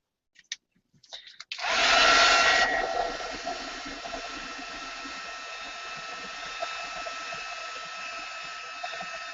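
After a few light clicks and taps, a dryer blows air over a mixed media canvas: a loud, steady, breathy roar that starts abruptly and holds for several seconds, easing slightly but running without a break.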